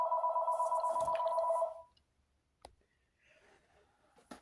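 A telephone rings indoors during a crochet session, a loud steady electronic trill lasting under two seconds before cutting off, followed by a few faint clicks and handling noises.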